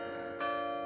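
Church bells ring on for a wedding, a sustained bright metallic tone that stays steady and swells slightly louder midway, heard at a moderate distance with no talking.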